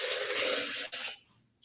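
Four cups of water poured into a container of nuts: a loud, close rushing gush lasting about a second, a brief dip and then a surge, ending in faint trickles and drips.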